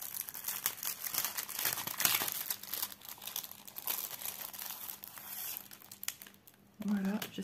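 Plastic packaging of a cross-stitch kit crinkled and torn open close up, a steady run of soft rustling and crackling with brief louder crunches, a voice speaking quietly alongside.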